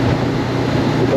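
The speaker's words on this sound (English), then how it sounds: "It's just that bit of a cold wind that catches you" Cold wind buffeting the microphone while riding a Honda NX500 motorcycle along lanes in Wales, a steady loud rushing roar with the motorcycle engine underneath, under talking.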